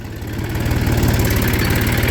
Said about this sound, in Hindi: एक ट्रैक्टर पीछे आ गया है